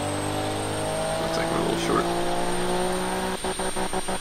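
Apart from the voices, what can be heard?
car engine running in Automation video game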